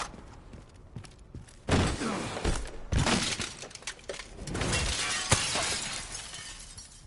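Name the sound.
glass shattering in Resident Evil Requiem, video game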